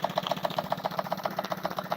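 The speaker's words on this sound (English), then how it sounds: "It's a Stewart 10V engine." A Stewart 10V model steam engine, fed by a handmade silver-soldered boiler with seven flues, runs at a fast, even rhythm of about six beats per second. Its close mechanical chuffing and clatter carries on steadily with no speech.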